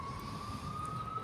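Ambulance siren passing outside, a faint steady wail heard from a distance over low background rumble.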